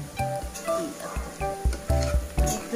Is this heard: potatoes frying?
yes